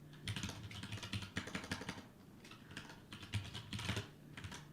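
Rapid clicking of keys on a compact computer keyboard with no number pad, close and fairly quiet, coming in quick bursts with a brief pause in the middle.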